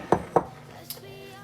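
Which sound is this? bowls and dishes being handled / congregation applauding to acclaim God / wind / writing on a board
bowls and dishes being handled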